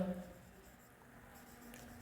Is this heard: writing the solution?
yes